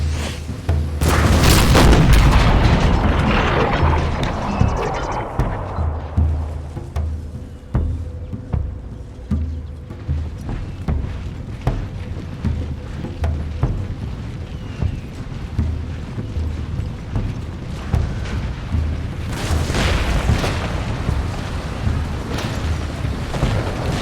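Artillery in Empire: Total War fires a volley, opening with a loud deep boom followed by a rolling series of distant cannon thumps and rumbling echoes, with a second burst near the end.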